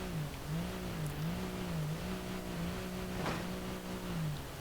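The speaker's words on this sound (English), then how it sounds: "let's give it some speed bump treatment" Ibishu Chisai 660cc Turbo in BeamNG.drive running over speed bumps, its small engine droning steadily with a wavering pitch as it speeds up and eases off, a brief sharp knock midway from a bump impact.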